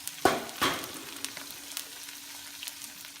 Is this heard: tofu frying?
yes